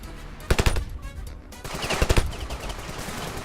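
Rifle gunfire from a video game comes in two quick bursts of sharp, close shots, with a rumbling, reverberant tail after each burst.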